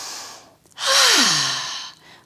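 A single deep, breathy inhale during a yoga flow, rising quickly and then tapering into a soft, voiced sigh-like tail, close and clear with no talk.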